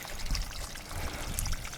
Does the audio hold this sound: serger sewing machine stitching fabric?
no